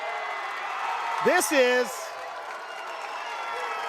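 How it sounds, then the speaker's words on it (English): A basketball crowd at a regional championship girls' game yells and murmurs continuously in the background while a commentator speaks briefly over it. "the crowd is yelling at like want to delay"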